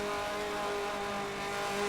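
A race car takes a corner at Sebring at night in Forza 7, its engine droning steadily with strong tonal harmonics, loud and close throughout.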